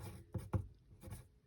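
A pencil writes the word circle by hand, giving a few faint, quiet scratching strokes in short bursts with brief pauses between them.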